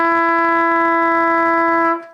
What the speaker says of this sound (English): Now the F sharp, remember it's middle valve,